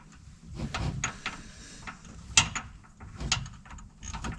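A ratchet works a spark plug loose on a Kawasaki KRX side-by-side, giving scattered clicks and metallic ticks with a sharp snap midway, close by and without talk.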